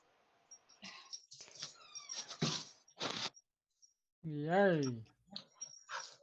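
Dogs whimper and yip in short, high-pitched, wavering bursts, one longer whining cry standing out near the end, with people talking and exclaiming between the sounds.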